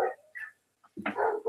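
Dogs barking at a coyote on the edge of a rural property, a few sharp close barks and yips with short pauses between.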